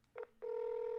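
Telephone dialing tones on a call: a short keypad beep, a brief pause, then a longer steady tone, close and clear.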